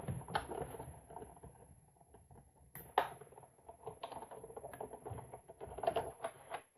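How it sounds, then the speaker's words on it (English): Stampin' Up! Big Shot die-cutting machine cranked by hand, a run of quiet, irregular clicks and rattles with a few sharper knocks, close and continuous for several seconds with no talking. "So if you haven't seen a Big Shot machine used before, there you go."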